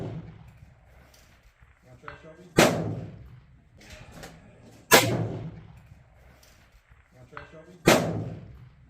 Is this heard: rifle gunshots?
yes